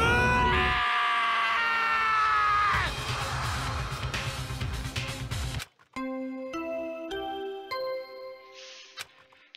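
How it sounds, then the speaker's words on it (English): A scream rings out in the Danganronpa video game, a loud sustained shriek mixed with dramatic game music and sound effects, ending in sharp synthesized stingers. "I heard screaming."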